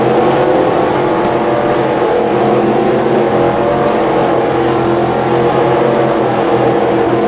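In-car sound of the number 97 race car at a green flag, its engine roaring loud and constant with a steady harmonic drone, close and dominant with no talk.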